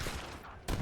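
Musket volleys and cannon fire crackle in a strategy video game battle, a continuous rattling fusillade that drops off briefly before a louder burst near the end.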